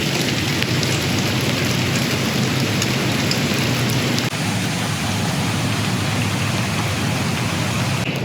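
Heavy downpour from Tropical Storm Debbie at Lakewood Ranch, a dense, loud, continuous roar of rain pounding surfaces with no pauses.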